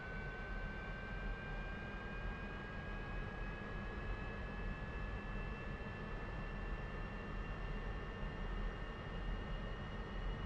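A MiG-15bis jet engine in DCS World spools up under added throttle, a steady loud roar with a thin whine that climbs slowly in pitch throughout.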